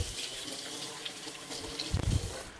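An orange dropped during cooking is rinsed under a running kitchen tap, a steady close gush of water with a brief louder splash near the end as the fruit is turned in the stream; no talk.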